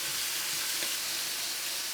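Bacon frying in a pan beside burgers on the cook, a steady broadband sizzle and crackle with no voices over it.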